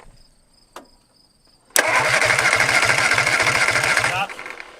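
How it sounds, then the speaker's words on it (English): An MG engine seized for 42 years cranks over on its starter without firing, a steady rapid chugging rhythm lasting about two and a half seconds before stopping, loud and close, with a brief click and faint hum before it. "Mook, may I have you crank the motor, please?"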